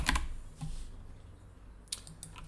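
Python code being typed on a computer keyboard, a few scattered quick key clicks in short bursts separated by quiet pauses, close and clear, no voices.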